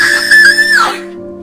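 A single loud, high-pitched human scream rings out and slides downward before cutting off, piercing the night inside a bungalow.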